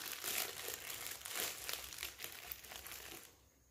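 A small plastic bag for homemade ice cream is handled close by, giving steady crinkling and crumpling that rises and falls in bursts for several seconds, with no talk.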